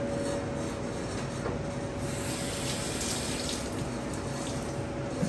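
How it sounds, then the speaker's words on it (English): Parsley being rinsed under a cold running kitchen tap, a steady close rush of water splashing into the sink, with faint rubbing of the leaves under the stream and no talk. "I'll rinse it under cold running water"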